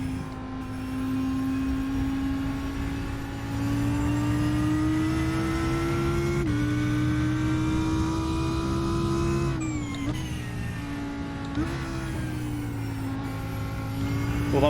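GT race car engine in the iRacing sim at Watkins Glen, droning loudly at steady revs and climbing through the gears, with abrupt pitch drops and stumbles at a couple of poorly timed shifts; no talk.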